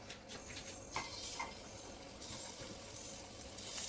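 Litti dough balls sizzle in a pan with a small amount of ghee, a soft, steady frying crackle with a few brief pops and splashes, fairly faint, and no talking.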